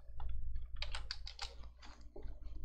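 Fast typing on a computer keyboard, bursts of crisp clicking keystrokes in quick runs with short pauses, close and alone with a low steady hum underneath.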